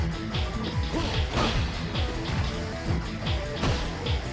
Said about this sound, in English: you can do a final blow against your enemy player which will send them crashing through a barrier